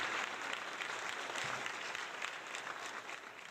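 Applause from a podcast audience, a steady wash of many hands clapping at even loudness for the whole stretch, with no voices over it.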